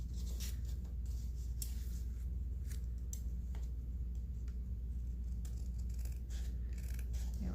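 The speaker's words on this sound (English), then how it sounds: "So let's cut a little strip off here" Scissors snip through a strip of handmade paper in a series of quick, close, crisp cuts spread unevenly over a low background hum.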